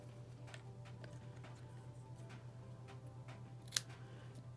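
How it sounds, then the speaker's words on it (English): Scissors snip through a long paper card sentiment strip in a few quiet, scattered cuts over a steady low hum, with one sharper snip standing out near the end; no talking. "So this is quite long for a card, so I'm going to be cutting it up."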